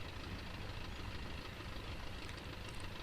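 A de Havilland Chipmunk's piston engine idles steadily in Flight Simulator X, a continuous low, rumbling drone with no change in pace and no voices.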